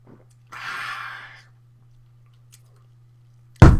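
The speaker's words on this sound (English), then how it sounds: "Let's see if I can finish this in one gulp" A man gulps a beer down in one go, a swallowing, slurping burst lasting about a second, close to the mic, followed by quiet and then a loud thump at the end.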